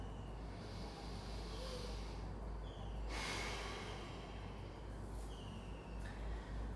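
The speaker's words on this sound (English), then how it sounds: "One more nice deep breath." A deep breath during a morning stretch practice: a slow, drawn-out airy inhale and exhale, close and soft, over a steady low background hum.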